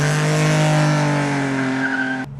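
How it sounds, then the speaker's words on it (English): A 1970s Ford Capri V6 squeals its tyres in one long, loud, sustained screech with engine tone beneath, holding steady for about two seconds before cutting off abruptly. "If it's a V6, you can't help but squeal the tyres."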